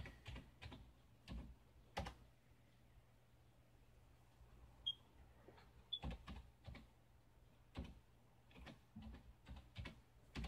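Keys clack quietly on a computer keyboard as diskpart commands are typed, with short runs of taps separated by pauses, faint and close over a low background hum.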